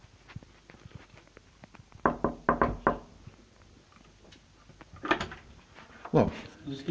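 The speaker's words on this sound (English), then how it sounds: "Did you close the door on me for a reason, to put the chain on?" Door closing and a metal door chain being fastened, a rapid cluster of sharp knocks and rattles at close range, followed by more clatter; voices speak faintly before and after.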